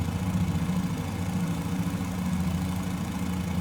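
The Fokker F VII's engines drone in Microsoft Flight Simulator over Sydney, a steady low, throbbing hum that is constant and close, with no voices.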